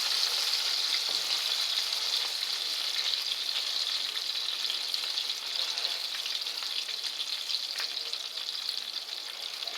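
Lamb leg browning in a hot pan over a strong flame with garlic, sage and thyme, giving a steady, close, loud sizzle and crackle that runs unbroken throughout with no talking.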